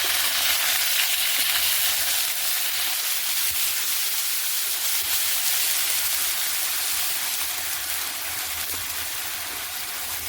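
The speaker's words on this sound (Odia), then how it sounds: "ବର୍ତ୍ତମାନ ମସଲା ପୁରା ତାକୁ କଷା ହେଉଛି।" Masala spice paste sizzles and fries in a pan on a wood-fired home kitchen stove, a loud, steady, broadband crackling hiss that runs without a break, with no voices.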